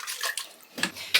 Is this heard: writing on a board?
no